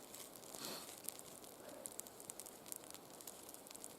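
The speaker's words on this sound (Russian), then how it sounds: "Люблю костер. Ужасно как люблю." A campfire crackles outdoors in an autumn forest, with small sharp pops and snaps scattered over a steady soft hiss, fairly faint and with no talking.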